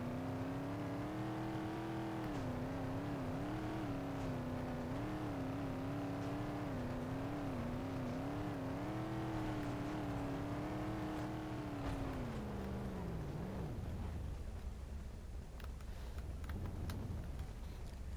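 A rock crawler's engine drones and revs steadily as it drives through mud in BeamNG.drive, a continuous whirring motor tone that rises and falls, then drops away near the end, with no talking.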